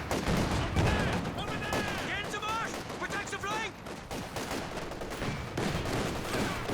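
Gunfire in a real-time strategy video game battle: rapid, dense bursts of shots and explosions mixed with whistling projectile sounds, under continuous commentary talk.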